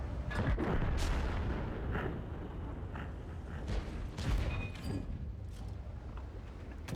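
Heavy tank cannon fire in World of Tanks from a TS-5 tank destroyer, several booming shots over a constant roar of engine and battle noise.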